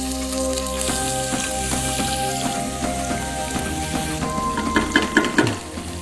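Pepper and garlic drop into well-heated oil and fry with a loud, dense, steady sizzle and crackle, with some clinking and stirring near the end; no voices.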